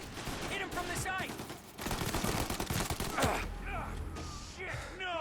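Gunfire in the video game Mafia: Definitive Edition: dense overlapping volleys of shots and bursts, loud and continuous across the stretch, mixed with shouted speech and clattering effects.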